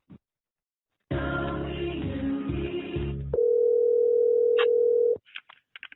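During a call transfer, a telephone line gives a burst of muffled line noise and then a steady electronic tone that holds for a couple of seconds before cutting off, followed by faint clicks.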